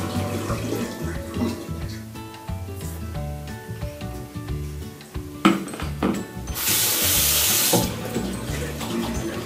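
A tap runs into a sink for washing the face, a steady splashing rush that swells louder in the latter half over background music and small clinks.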